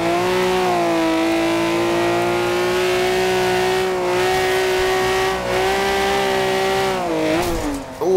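A Ferrari in Forza Horizon 2 races hard, its loud engine holding a steady high drone with rising and falling revs and a sharp shift near the end, heard alone up close.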